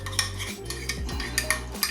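A utensil scrapes and clinks against a bowl as seasoning is mixed for a prime rib crust, producing a series of irregular taps and stirring scrapes over a low background hum.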